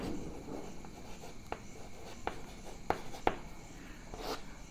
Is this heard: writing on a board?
yes